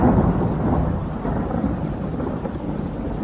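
Steady rain with a low rolling rumble of thunder fills the scene, a dense continuous wash of sound at a constant level.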